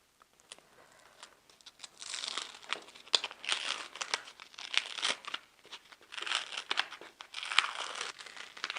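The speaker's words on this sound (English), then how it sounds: "So I'm going to go ahead and weed the image." Excess cut vinyl being peeled off its backing while weeding a Cricut-cut design: continuous close crinkling and crackling with sharp little snaps, swelling and easing in bursts, no talk.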